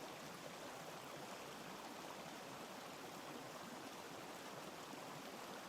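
Steady broadband rush of a waterfall in a video game, continuous and even with no variation or voices, like a constant roar of falling water.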